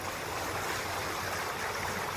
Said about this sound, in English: with the water being as high as it is and as rough as it is